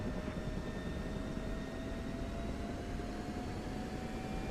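An F-16 fighter jet in the DCS flight simulator game rolls for takeoff, its engine a steady, loud, broadband roar with a thin rising whine held evenly throughout, with no voices.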